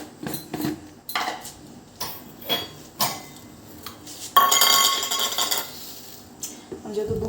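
Eggs whisked in a bowl for cake batter with salt and sugar, heard as repeated bursts of utensil clinks and scrapes against the bowl, close and fairly loud.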